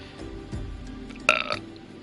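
In the fantasy MMORPG Final Fantasy XIV, a game character lets out a single short burp, sharp at the start and then trailing off, over faint in-game ambience.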